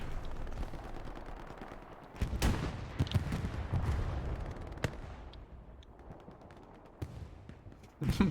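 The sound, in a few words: tank firing a shot in a video game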